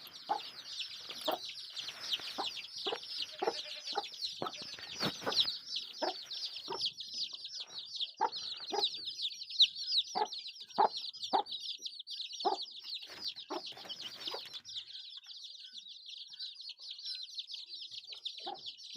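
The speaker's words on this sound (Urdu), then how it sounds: "یہ ہماری مرغیاں ہیں، مرغی کے چوزے" Backyard hens and their chicks make a steady stream of high, overlapping chick peeps, broken by frequent soft, low clucks from the hens at a close, moderate level.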